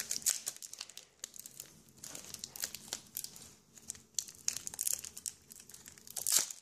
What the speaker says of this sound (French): on va ouvrir les 6 autres boosters